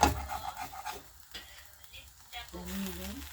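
Milk bread frying in a pan, with a soft steady sizzle heard near and at moderate volume, plus a few scraping and rubbing touches; a voice murmurs briefly toward the end.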